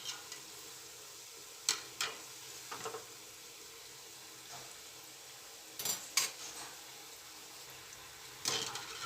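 Green pigeon pea fritters (dhekra) fry in oil over a medium gas flame, a steady soft sizzle broken by occasional clinks and scrapes of a utensil against the pan, with no voices.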